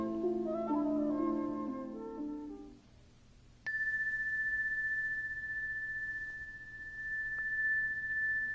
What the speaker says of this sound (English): rest until you hear me ring the chime 3 times